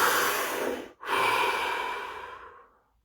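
One slow, deep breath drawn in and let out during a guided relaxation exercise, a long airy inhale, a brief pause, then a soft exhale fading into silence.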